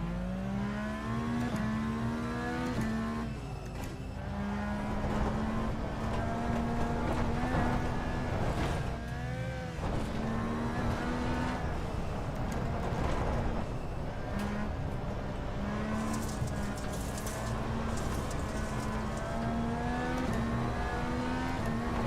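Race car engine in the iRacing sim drifting and sliding, a steady high engine drone rising and dipping through revs and gear changes with tire noise, loud and continuous without talk.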